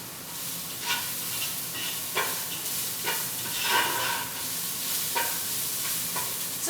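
Garlic frying in a pan for a homemade pasta sauce, a steady close sizzle with a stirring scrape or clack about once a second, each stroke briefly lifting the hiss.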